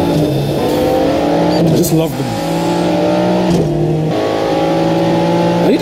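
Race car engine from the Asphalt racing game, an Aston Martin, revving loud and steady through rising gear shifts, with someone talking over it throughout.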